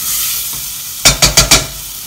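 Onion with nutmeg sautéing in a pan, a steady sizzle broken by four quick scraping stirs close up, with no talking.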